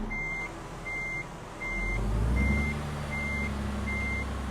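Reversing beeps from a Western Star truck backing up in American Truck Simulator, set in Colorado: six evenly spaced high-pitched pulses sound clearly over a steady low engine rumble.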